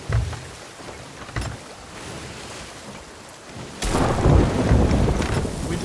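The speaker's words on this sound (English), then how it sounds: "We just got struck by lightning." Thunder from a lightning strike booms over rain and rough sea in the Sea of Thieves pirate game, a sharp crack at about four seconds swelling into a loud, sustained roll after fainter rumbles.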